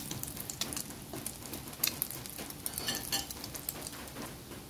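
French toast bread frying in butter in a pan gives a steady, close sizzle, with scattered crackles and light scrapes of a utensil against the pan, and no talk.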